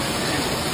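Steady, dense rain hisses loudly and evenly in a short stretch, with no talking.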